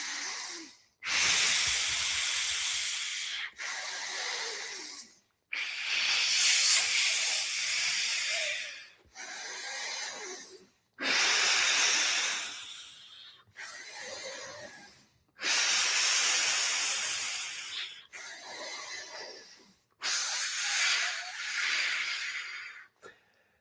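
Hard breaths pushed out through a clenched fist during a breathwork exercise for mountain athletes: long, loud, hissing exhalations repeated about eight times, each lasting a couple of seconds, separated by brief quiet pauses, very close and alone.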